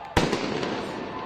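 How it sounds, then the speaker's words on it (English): Flashbangs at a freeway protest as police work to reopen the road: one loud sharp bang, then a smaller pop and a trailing crackle over a steady outdoor crowd din with voices. "Apparent flashbangs going off as police work to reopen the road."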